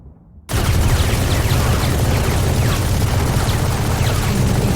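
Sustained loud gunfire in the game Breach, shots fired through a wall, starting abruptly and continuing as a dense, rapid barrage.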